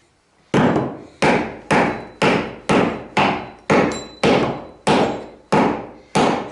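A hammer drives a wooden dowel beneath a creaking floor, delivering about a dozen sharp, evenly spaced blows, loud and close, each with a short ringing decay and no talking.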